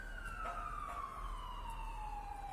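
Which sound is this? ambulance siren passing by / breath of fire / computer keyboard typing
ambulance siren passing by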